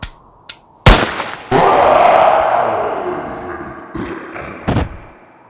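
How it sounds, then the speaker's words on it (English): A single loud, close gunshot crack from a pulled trigger in an audio drama about the Abominable Snowman, followed by a long rumbling echo that slowly fades, with scattered thumps before and after. "I pulled the trigger!"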